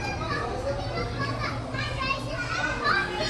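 Busy chatter and shrieks of children playing at the Manila Ocean Park Super Toy Collection exhibit, a dense indoor crowd of young voices that is continuous and fairly close, with kids talking throughout.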